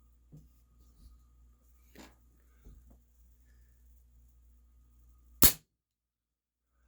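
A Remington 1875 CO2 air pistol fires a single loud, sharp crack near the end, close and abrupt, after a stretch of quiet handling taps and low background hum.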